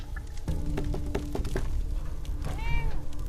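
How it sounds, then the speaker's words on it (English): A cat meows in Fallout 4, a clear rising and falling meow near the end, set over low game ambience with scattered clicks and thumps. "There's a pussy cat."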